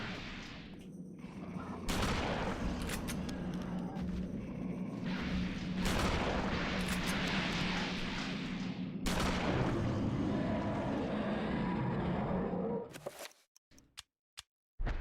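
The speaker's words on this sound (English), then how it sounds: "Good thing I have a shotgun now." Dense, rolling video-game gunfire with booming shotgun blasts layered over a chaotic battle mix for most of the stretch, then cutting to a few isolated sharp shots near the end.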